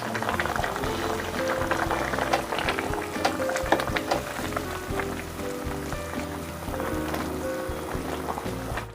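A large pot of potato sambal goreng with instant coconut milk simmers and bubbles steadily while being stirred, a continuous close wet burbling with scraping and clinking of the spoon.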